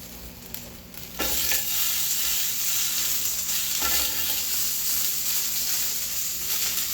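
Cooked pieces tumble into a hot soup pot and set off a steady, close sizzle of frying that starts abruptly and holds loud, with a brief clatter of stirring partway through.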